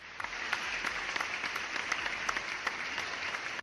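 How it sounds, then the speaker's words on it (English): Clapping from a crowd, thin and fairly faint, keeps up a steady patter of sharp claps the whole time with no talk over it. "massive round of applause"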